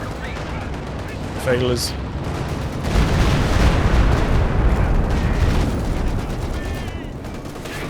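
Tank battle in Company of Heroes 2, with a KV-1 firing rounds and taking main-gun hits from a Jagdpanzer. Dense, loud gunfire and booming blasts roll on continuously while a commentator talks over the action.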